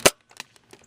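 A Nerf blaster fires one dart with a single sharp, close pop, followed by faint light clicks and rattles of the mechanism, with no talking.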